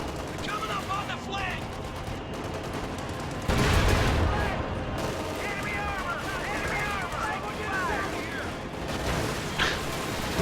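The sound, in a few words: tank gunfire in a video game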